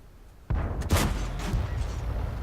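Tank cannon shot in the World of Tanks video game, a sudden loud boom followed by a second sharp report and rumbling battlefield noise.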